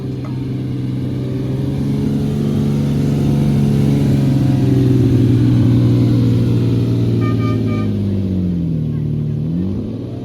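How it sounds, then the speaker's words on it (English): Lamborghini Diablo and Countach V12 engines at a vintage supercar meet rumble and rev steadily, with the pitch rising and falling and a slight dip near the end, loud and close. "For a second, we have the V12 pair of the Diablo and the Countach."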